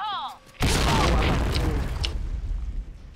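A sudden loud boom bursts in after a brief synthetic tone, followed by a rumbling, crackling blast that slowly fades over a few seconds.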